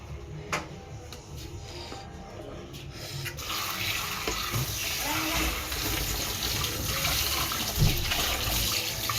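Tap water runs steadily into a sink during dishwashing, a continuous loud rush with faint clinks, starting softer and swelling after a few seconds.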